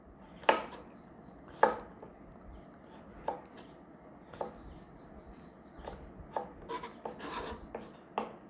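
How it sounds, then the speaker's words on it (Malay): Dried outer skin is scraped and peeled from a galangal root with a knife, producing a series of sharp rasping strokes spaced a second or so apart, close and fairly quiet, with no talking. "Mula lengkuas ini kita akan buang dia punya kulit dulu ya."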